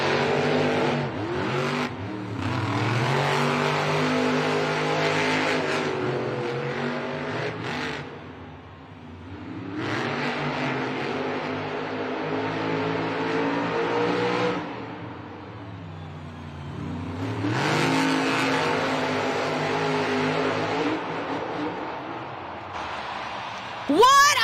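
Monster Jam trucks Zombie and Gravedigger race side by side in an Anaheim stadium, their engines roaring loud and steady with revving surges and brief dips. A commentator and the crowd can be heard underneath.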